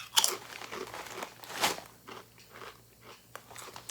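Crisp, close crunching of chips made from lentil flour and potato starch with onion and garlic, a loud first bite followed by a second sharp crunch and several softer chewing crackles.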